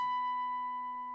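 A single high electric guitar note, B at the 19th fret, rings out clean and steady, sustaining evenly and fading only slightly, with no other sounds.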